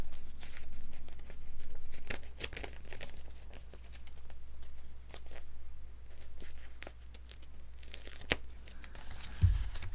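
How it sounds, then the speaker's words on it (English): A LEGO sticker peeled from its sheet and pressed into place during a Ninjago City build, heard as close, quiet tearing and crinkling rustles in short bursts, with a sharper crackle near the end. "I'm going to put a sticker on right now."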